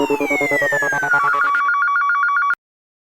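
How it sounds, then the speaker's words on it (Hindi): Telephone ringtone on an outgoing call to an office, a repeating electronic warble of descending, then steady pulsed tones that cuts off abruptly with a click after about two and a half seconds; no voices. "अंजलि अपने ऑफिस फोन कर रहा हूँ भाई, लेट हो जाएगा, इसलिए बता तो दूं एक बार"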